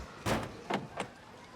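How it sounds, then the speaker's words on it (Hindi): Someone tries a locked door three times, each attempt a short rattling jolt of handle and latch against the frame, closely spaced and fairly near with quiet between them. "दरवाजा खोलो, लॉक है।"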